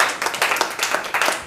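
A church congregation claps in praise of God, a quick run of sharp, loud claps in an uneven rhythm, close and filling the space, with no talking over it.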